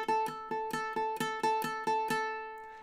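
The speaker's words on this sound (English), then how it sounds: "We're gonna play the open A, and then we're going to start the tremolo technique" Ukulele plucks the open A string, then shifts into fast tremolo picking on the same note, as in measure 15 of a tune: a quick, even run of bright repeated attacks, close and fairly quiet, ending in a short fade.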